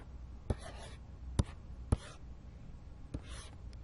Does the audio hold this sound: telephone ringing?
no